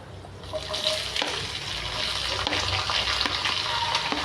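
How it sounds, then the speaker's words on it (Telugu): Onions and green chillies sizzle in a pan for tomato upma, a steady, close crackling fry with occasional sharper spatters and the scrape of stirring, no voices over it. "అవి వేగుతున్నాయి."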